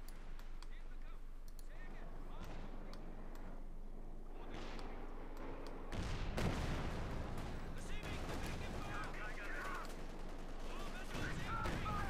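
Gunfire in the Company of Heroes 2 battle, supporting fire striking an anti-tank gun and crew, a dense run of sharp cracks and bursts over continuous battle noise with voices talking throughout.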